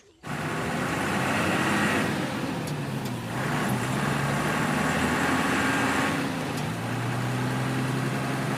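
A truck rumbles along a road in a film scene, with a continuous loud engine drone and road noise and faint gear shifts for several seconds.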